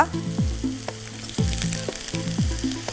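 Continuous oily sizzling of masala paste frying with onions in a pan, with repeated downward-swooping tonal sounds at regular intervals riding over the frying.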